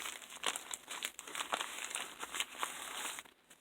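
Paper envelopes being handled close up, with continuous crinkling and rustling that rises into sharper crackles, moderately loud and steady with no speech.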